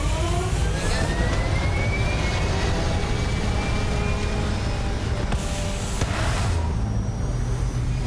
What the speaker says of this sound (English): Engines fire.